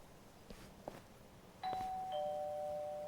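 A doorbell rings at a clinic home in Lost Judgment: The Kaito Files, a single clear two-tone electronic chime that starts after a couple of faint taps and holds over quiet room ambience.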